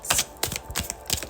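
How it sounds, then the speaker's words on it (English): Oracle cards being shuffled by hand produce quick, close crisp flicks and rustles in uneven bursts, with no talking over them. "I will keep shuffling until Spirit tells me to stop"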